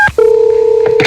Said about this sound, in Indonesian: Mama telepon dulu papa ya.